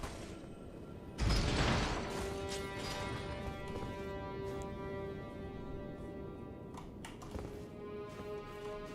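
In the Elden Ring video game, a huge elevator descends with a sudden heavy mechanical clunk. A steady rumbling drone and low hum follow, joined by occasional creaks and knocks, loud and continuous, with no talking.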